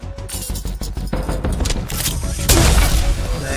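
Gunfire from a weapon in the Echo video game sounds as rapid sharp shots, then heavier booming blasts, loud and close amid chaotic action.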